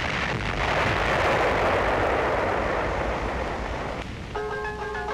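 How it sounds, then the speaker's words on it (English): Artillery bombardment of Lhasa in 1959, a heavy, sustained rumbling roar of shelling that swells loud and slowly eases, followed near the end by a brief thin musical tone. "Lhasa, under communist bombardment, the Dalai Lama fled to India"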